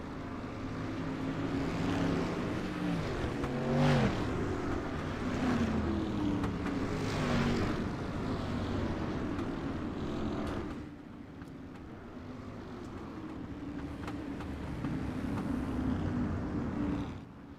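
Street stock race car engines droning in a sim racing league heat race at a virtual Hales Corners Speedway, a steady, loud blended roar of several cars that drops slightly partway through before building again.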